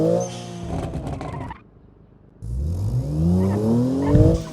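Small yellow budget sports car in BeamNG Drive lapping a track, its engine revving and rising through gears, briefly dropping to a quiet lull mid-run before climbing again with whirring acceleration.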